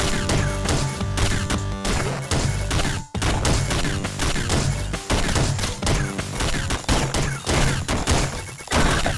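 Dense, rapid gunfire from the video game Downwell rattles almost continuously, loud and close, with a brief gap partway through before the shots resume over layered game music.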